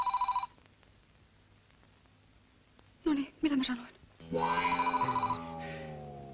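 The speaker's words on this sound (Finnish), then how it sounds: "Yleensähän puhelin soi ja sitten on kaikki taas pielessä." An old-fashioned telephone bell rings in bursts, a short ring at the start and a longer ring near the end, with someone speaking Finnish in between.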